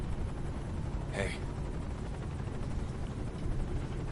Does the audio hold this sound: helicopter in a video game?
yes